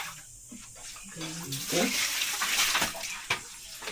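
Water runs from a tap into a basin or bucket, rising into a strong splashing gush midway and then easing, with a brief voice and some clinks of containers nearby.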